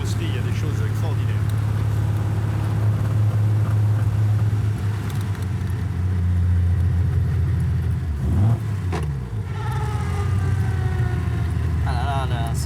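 A vintage pre-war car with an old unsynchronised gearbox drives steadily, its engine a constant low rumble and whir heard from inside, with a brief dip and surge around a gear change.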